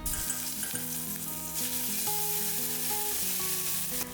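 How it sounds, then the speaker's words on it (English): Whole spices and ginger garlic paste in ghee sizzle steadily in a pressure cooker, a constant frying hiss under background music, with no talk. "Add the whole spices and ginger garlic paste and saute for a few seconds"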